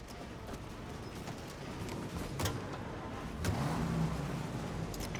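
A car engine hums and accelerates in Mafia: Definitive Edition, a steady motor drone with a few sharp clicks and knocks, a slight rev swell near the end and no talk.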